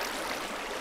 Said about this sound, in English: You see how the water's all running now.